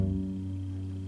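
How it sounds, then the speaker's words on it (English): Bass sounding a single sustained low F sharp, steady and close, with no talking. "This is going to be the note F sharp."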